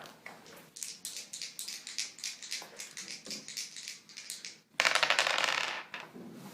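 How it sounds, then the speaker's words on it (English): Two dice rattle and bounce across a tabletop, a rapid run of sharp clicking taps that bursts into a louder clatter near the end before settling. "Roll 2d10."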